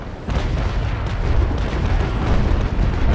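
Cannon fire from a naval battle in the game Naval Action, a dense rolling barrage of heavy booms and rumbling blasts that blend into a continuous loud roar.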